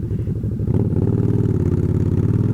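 Steady, close motorcycle engine running throughout a ride, a continuous throbbing mid-pitched drone with a faint rhythmic pulse and no talk over it.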